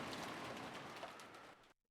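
Steady rain hiss from the Umineko When They Cry visual novel, a dense continuous wash that fills the background for most of the moment before cutting off abruptly into near silence.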